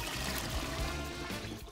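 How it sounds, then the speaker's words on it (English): Water pours steadily over sushi rice in a pot, a close, continuous splashing trickle lasting a couple of seconds with no talking. "So we're gonna cover this with a lot of water."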